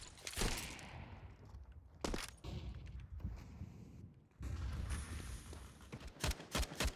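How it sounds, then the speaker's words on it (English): Counter-Strike gunfire on de_Dust2 during a pro match, several loud separate bursts of rifle shots with sharp cracks spread across the stretch, mixed with game ambience and footstep thuds between volleys. "Couple shots towards the upper tunnel"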